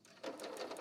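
A sewing machine runs a brief burst of a couple of reverse stitches at the edge of a pant in-seam, a quick, even rattle of needle strokes lasting under a second.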